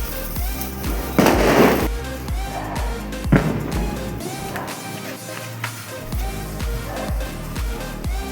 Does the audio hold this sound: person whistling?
no